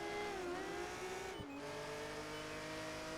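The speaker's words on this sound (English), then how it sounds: "A lot of skidding going on this track." A race car in Project Gotham Racing 4 holds a steady, whining engine drone, with a tire squeal and a short skid around mid-clip, continuous and moderately quiet, with no talking.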